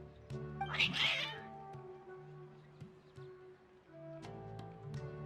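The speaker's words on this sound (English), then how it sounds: "Your cats seem pretty worked up." Cats meowing in the video game Genshin Impact, a loud drawn-out yowl near the start followed by quieter meows later, over a soft game background.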